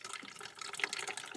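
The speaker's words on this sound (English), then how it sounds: "pinpoint where you're pouring the water and get them all wet" Water pours from a kettle in a soft, steady trickle, faint and close, running continuously for over a second with no one talking.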